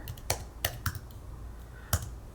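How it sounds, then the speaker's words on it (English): A few sharp keystrokes on a computer keyboard as a password is entered, sparse and irregular with pauses between taps, close and fairly quiet. "You will type in the password that you got from the secret password post"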